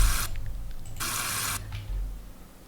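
Tap water gushes into a kitchen sink during dish washing, in two short bursts separated by a quieter stretch of low background hum, with no voices.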